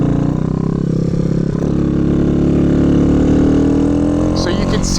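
A minibike engine drones loud and close, holding a steady buzzing tone that rises slightly as it rides around a dirt track, with a voice talking over it.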